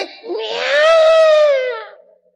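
A preacher's voice imitates a newborn baby's cry, rising into a single loud, sustained wail of about two seconds that fades out at the end.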